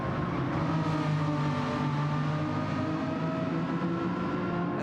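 A race car engine drones steadily around the Nordschleife in a sim racing game endurance event at sunset, a constant loud roar with shifting harmonic tones and no talk.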